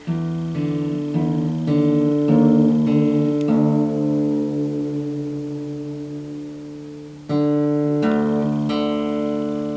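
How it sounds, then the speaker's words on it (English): Guitar strings in drop D tuning are plucked one after another and left ringing, two D notes sounding an octave apart, with a fresh pair of plucks near the end. "So I'm going to tune this one down to an octave below that D."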